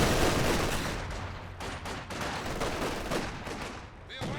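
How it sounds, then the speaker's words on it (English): Dense, continuous machine-gun fire from a competitive real-time strategy video game match, a steady loud rattle of overlapping shots with battle noise and no pauses throughout. "MG rolling through the centre."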